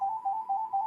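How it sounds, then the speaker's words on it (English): A phone rings with a steady electronic tone that pulses briefly, clear and alone for under a second. "And excuse the phone."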